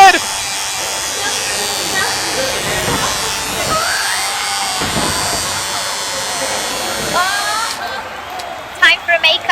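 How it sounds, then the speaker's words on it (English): An electric razor buzzes steadily while shaving a wrestler's head in a WWE 2K wrestling video game, running continuously and fairly loud under excited commentary and shouting voices, with a few sharp bursts near the end. "She's gonna shave her head!"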